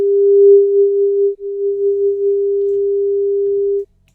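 A steady pure sine tone sounds alone with a brief dip near the start as a digital fader moves, then holds level before cutting off cleanly.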